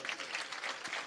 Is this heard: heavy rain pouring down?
no